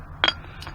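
A green glass jar being handled at a dump gives a sharp, close clink followed by a softer second tap a moment later, with quiet background and no talking.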